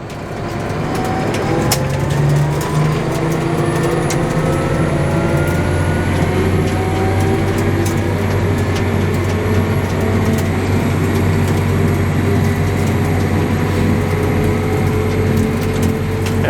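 A Massey Ferguson tractor rolls down a gravel road at speed carrying a bale, a loud steady engine drone with crunching gravel and rattle, no talk.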